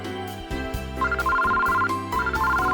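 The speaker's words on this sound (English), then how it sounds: "Kusame-san's cell phone rings, almost as if it's responding to Aso's voice." A cell phone ringtone chimes in a Japanese visual novel game, a steady two-tone electronic melody looping over soft background music at a constant moderate level.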